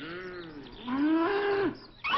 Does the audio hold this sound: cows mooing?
yes